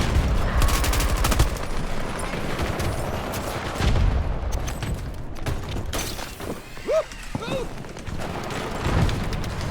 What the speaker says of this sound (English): The hipfire in this thing is so good, man.